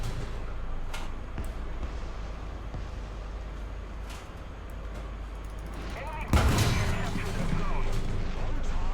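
Tank cannon fire in War Thunder, a Challenger 2 battle: one sharp, loud blast about two-thirds of the way in, set against a steady engine rumble with scattered distant shots and someone talking over it.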